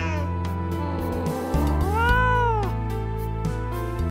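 An older cat with hyperthyroidism gives a single drawn-out meow with a rising and falling pitch, close and clear over a low steady background hum.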